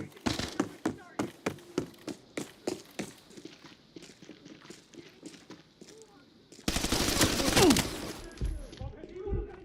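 Video game gunfire exchange: a rapid string of sharp, evenly spaced shots, then a denser, louder burst of continuous fire near the end, with no talking.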